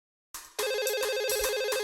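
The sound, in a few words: business telephone ringing in a TV advert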